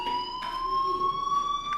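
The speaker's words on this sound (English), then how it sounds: "do you hear that fire alarm?" A fire alarm in the video game Life is Strange blares as a steady, piercing electronic tone with a faint pulsing flutter, continuous and moderately loud throughout.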